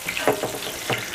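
Cajun-seasoned catfish pieces frying in hot oil, a steady bright sizzle with a few soft popping bursts, close and alone.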